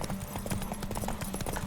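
Rapid clip-clop of a horse galloping flat out in a race in The Witcher 3, the hoofbeats close and steady under a constant rumble of game audio.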